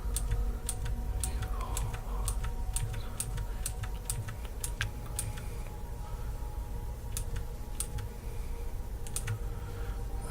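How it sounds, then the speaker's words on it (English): Computer keyboard directional cursor keys being pressed, a series of sharp close clicks in uneven bursts, denser early then sparser, over a low steady hum. "Use the directional cursor keys to move."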